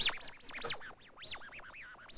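Birds call from a nest inside a room at a science and innovation event, giving rapid chirping, sweeping squeaks in quick overlapping bursts, moderately loud and near with no talk.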